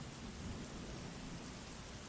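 Heavy rain pours down steadily with thunder rumbling underneath, a dense, even wash of sound with no voices.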